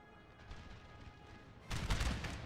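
Cannon fire from a Napoleonic battle in the Napoleon Total War game: a low, rumbling din of distant shots swells into a louder, sharper crash of artillery and musketry near the end.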